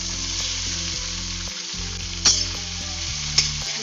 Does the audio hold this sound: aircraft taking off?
no